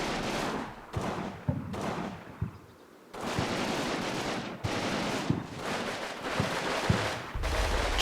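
Troops in the Combat Mission war game pour gunfire onto a building: repeated rifle and machine-gun bursts with sharp individual cracks, loud and sustained, briefly pausing before resuming.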